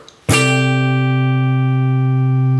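A single guitar downstroke on two strings, including the B string, rings out sharply, its two notes sustaining evenly and steadily without fading.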